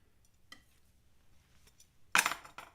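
Paint being scraped off a canvas during a live painting session: a faint scratch near the start, then a short, loud rasping scrape with a smaller follow-up, heard close and alone.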